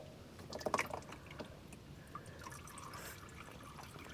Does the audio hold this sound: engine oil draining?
yes